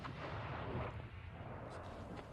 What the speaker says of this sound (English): That was one of the rockets heading out down towards into the plains around the city of Mosul